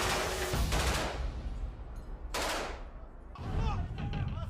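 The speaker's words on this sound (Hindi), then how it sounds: "इमारत को पूरी तरह घेरने के बाद गोलियों के बौछार का एक राउंड पूरा कर दिया जाता है।" Loud bursts of automatic gunfire hit a building under siege in an ISIS combat zone, with a heavy volley, a short lull, another sharp burst and continued rattling fire.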